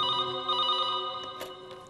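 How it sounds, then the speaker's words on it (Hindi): A telephone bell rings steadily and fairly loud for a couple of seconds, its harmonic tone sustained, with no one talking. "कल सुबह अचानक ही राहुल का फोन आ गया।"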